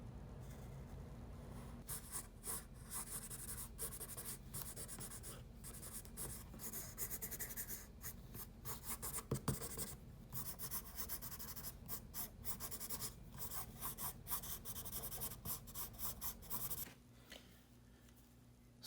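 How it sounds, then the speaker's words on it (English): A marker is drawn over pencil lines on paper for a tutorial sketch of a person with a hand in a pocket, giving close scratchy strokes in quick, irregular bursts that run almost nonstop. "grab the marker and I just go over all of the areas that we've just drawn"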